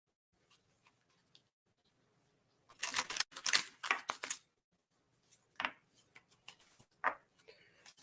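Feather oracle cards being shuffled and mixed by hand: a quiet flurry of papery riffling and flicks, then a few scattered soft taps and slides, close and faint.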